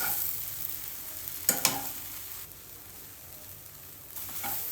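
Bread frying in hot oil as a street food snack gives a quiet, steady sizzle, with a couple of brief clinks of stirring and no voices.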